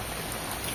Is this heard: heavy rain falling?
yes